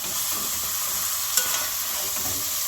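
Callaloo and saltfish being stirred in oil in a pot, giving a steady close sizzle of frying with soft scraping stirs throughout, no voices.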